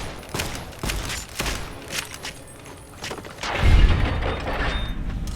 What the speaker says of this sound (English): Stop shooting at me, you prick.